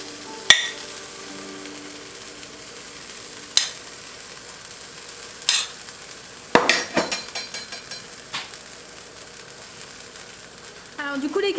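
A cheese and vegetable quesadilla fries in oil with a soft, steady sizzle, punctuated by sharp clinks and scrapes of a utensil against the pan.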